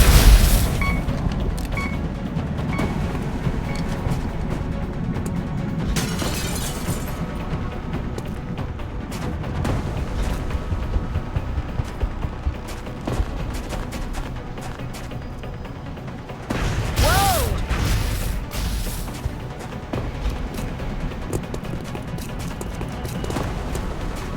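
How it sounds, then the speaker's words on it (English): Heavy gunfire and booming explosions in the XCOM: Enemy Within video game, a dense, continuous barrage of loud blasts and shots with stronger bursts near the start and two-thirds through, no talking. "There's heavy fire in the zone!"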